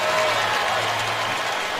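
A stadium crowd at a Tennessee Titans football game cheers a first down with a broad, steady roar of applause and voices, loud and sustained for a moment.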